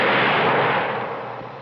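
Gunshot in a radio drama, a single loud, close blast that starts abruptly and decays into a long noisy tail over more than a second.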